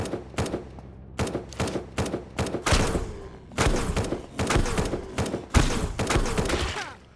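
An automated turret firing in SurrounDead, loud close bursts of rapid gunshots in repeated volleys with short gaps between them, continuing steadily throughout.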